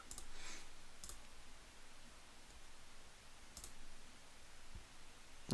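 A computer mouse clicks sharply a few times at irregular intervals, close and crisp over a quiet background hiss, with no voices.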